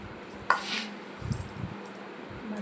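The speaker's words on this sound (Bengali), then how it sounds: "মুড়িটাকে বাটিতে তুলে নিই" Puffed rice (muri) scooped into a bowl: a sharp knock of the bowl followed by a soft, dry rustling pour, with a few lighter clinks and taps afterward, close and quiet.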